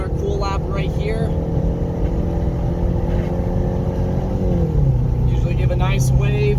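A car rolls through a slow cool-down lap on a race track, its engine a steady, close droning hum whose pitch drops partway through as it eases off.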